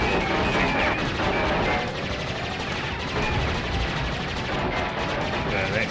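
Dense, continuous gunfire and explosions come from a boss fight in Crash Bandicoot 3, with rapid shots and crashes layered over one another and loud throughout.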